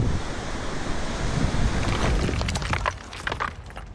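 Flood water rushing in Datia district, Madhya Pradesh, past a huge iron bridge, a steady loud roar of churning water with wind buffeting the microphone and no voices.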